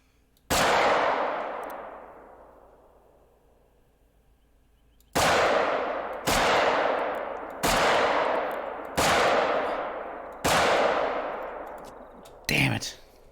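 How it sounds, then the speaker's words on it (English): Handgun shots in a hunting video game, one loud crack with a long fading echo, then after a pause five more evenly spaced shots, each ringing out before the next, ending with a shorter muffled blast. "I love shooting these handguns."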